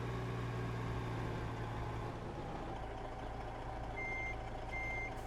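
Reversing beeps from a truck in American Truck Simulator, two short high beeps in the second half over a steady low idling engine drone, with no talk.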